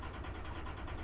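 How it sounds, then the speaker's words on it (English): A car engine in the iRacing video game, stalling and catching again at Charlotte, heard as a steady low rumbling idle with a faint regular pulsing throughout. "our engine is going in between stalling and not stalling all the time"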